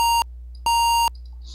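Two sustained electronic tones from a PSG sound chip playing a long A note at the highest tracker speed: a short burst, a brief gap, then a longer steady beep, bright and buzzy with no talk.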